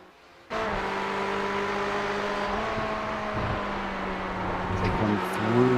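Race cars roar through the Maggots-Becketts sequence at Silverstone in a sim racing game, a steady loud engine drone that kicks in abruptly after a brief quiet start, with engine note shifting and rising toward the end.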